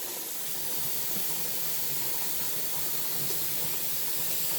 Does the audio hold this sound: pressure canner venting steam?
yes